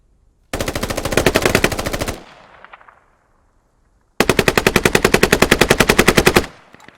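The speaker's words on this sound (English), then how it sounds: "Bit of exchange fire there from the Masher and Cookie Monster." Two long bursts of rapid automatic gunfire exchanged in a shooter video game, loud and close, the first lasting under two seconds and trailing into an echo, the second longer after a brief silence.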